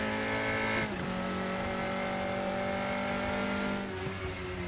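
A DTM race car at Motorland Aragon in the Raceroom game accelerates, its engine holding a loud, steady high-revving tone that drops briefly at a gear shift and again near the end.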